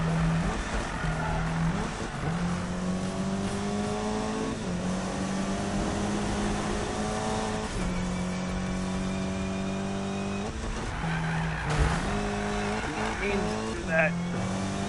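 Subaru racing in the Need for Speed video game on grip tires, engine whining and shifting through gears with repeated thuds against walls, while a person talks over it.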